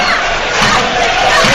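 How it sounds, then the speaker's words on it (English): A home football crowd at Latvia vs Wales reacts in a loud, sustained roar, swelling cheers and shouts blending into a dense wash of voices. "Home crowd responds."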